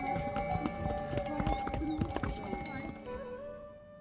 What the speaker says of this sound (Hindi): अब घोड़े पे जा रहे हैं।